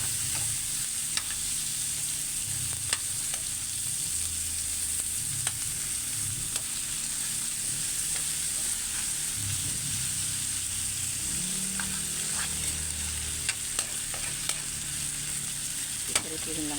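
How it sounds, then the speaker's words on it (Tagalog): Chicken pieces sizzle and fry in a pan for Filipino tinola, a steady crackling hiss running throughout, broken by occasional sharp pops and the scrape of stirring. "Pipirituhin lang natin."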